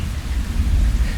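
Rain falls steadily on a city balcony under a deep, low rumble of thunder, forming a dense and continuous wash of noise.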